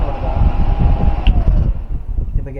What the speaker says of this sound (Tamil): ஃபேன் ஓடுதா